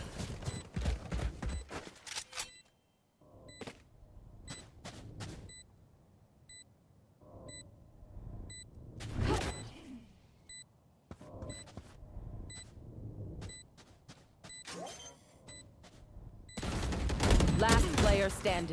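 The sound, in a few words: gunfire from the video game Valorant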